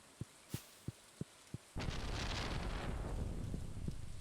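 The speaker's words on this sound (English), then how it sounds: "That might have been a lightning strike that did that." Sudden thunder from a lightning strike in Stardew Valley crashes in after a few soft clicks and holds as a loud, broad rumble for the rest of the moment, with no talk over it.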